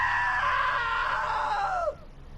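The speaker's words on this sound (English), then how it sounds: "Now that was a great scream." A woman screams long and loud in the video game What Remains of Edith Finch. The single sustained cry falls in pitch and cuts off after about two seconds.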